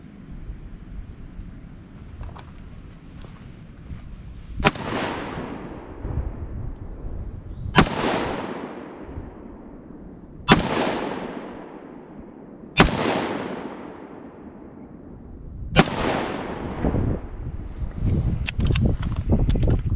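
Five loud rifle shots of TrueVelocity 5.56 ammunition go off at an outdoor range, each with a sharp crack and a trailing echo, spaced a few seconds apart over low wind and background noise.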